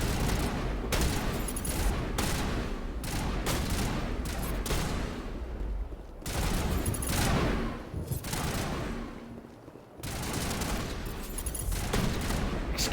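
Sustained gunfire in a Mass Effect Legendary Edition firefight, dense overlapping shots and bursts with booming impacts, loud and continuous, one short lull near the end before the firing picks up again.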